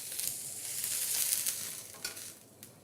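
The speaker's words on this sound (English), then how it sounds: "the stir fry is kicking in" Cabbage and noodles stir-frying in an oiled pan, a steady close hiss of sizzling with occasional stirring scrapes and clicks and no talk.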